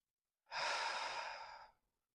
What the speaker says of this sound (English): Couple more breaths, keeping the chest open.